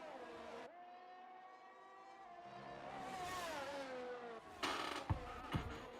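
Race cars in the F1 23 video game at the Hungary circuit, engines droning and whining steadily as they dive into the first corner, with a couple of sharp louder bursts near the end.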